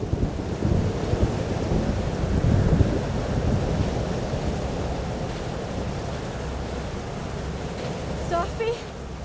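A thunderstorm in the video game Life is Strange: Double Exposure: a heavy, continuous roar of rain and wind with low rumbling underneath, loud and enveloping throughout.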